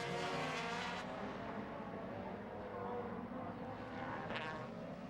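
DTM touring race cars from the 2003 season, Audi and Mercedes, roar past in a dense, continuous engine drone that swells slightly near the end, with a commentator talking over the noise.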